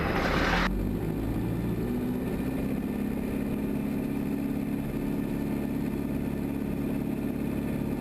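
A de Havilland Chipmunk DHC-1 warbird's piston engine and propeller drone loudly and steadily from inside the cockpit during the takeoff roll, following a brief burst of wind or rattle at the start.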